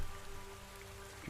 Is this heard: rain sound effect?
yes